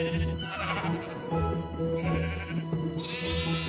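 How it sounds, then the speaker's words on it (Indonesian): Sheep bleating in Minecraft while penned in an enclosure, several overlapping bleats from a flock, fairly close and clear over a low background hum. "aku sempetin dulu buat ngurus domba-domba di kandang"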